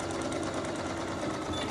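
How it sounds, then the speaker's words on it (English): A sewing machine stitches across the tie of a half apron, a fast, even motor whir with rapid needle clatter, close and continuous, no talking. "Going to stitch across that tie."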